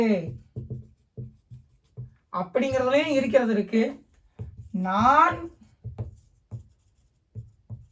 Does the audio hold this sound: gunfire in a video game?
no